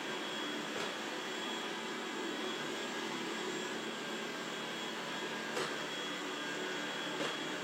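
A Dreame L10s Ultra robot vacuum mop runs steadily while cleaning up chocolate and jam spills on a floor, a constant whirring motor hiss with faint brief clicks, no voices.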